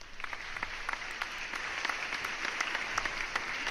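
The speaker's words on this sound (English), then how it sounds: "I had to give you the applause sounder." A soundboard applause effect plays as a short burst of crowd clapping, fairly faint and steady for a few seconds without any speech over it.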